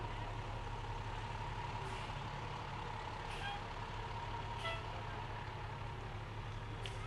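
A fire department pumper truck idles with a low, constant diesel rumble at a street festival, and faint hissing bursts from the air brakes come and go at intervals; distant voices murmur in the background.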